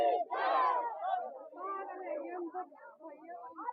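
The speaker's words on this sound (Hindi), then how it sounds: "यहाँ पर समस्त भक्तों का यहाँ पर बहुत ही ज़्यादा सैलाब है आज और भीड़ बहुत ही ज़बरदस्त है" A large crowd of devotees packs a temple on the Braj 84 Kos parikrama, with many voices shouting and chanting together in loud, overlapping waves that rise, dip and surge again.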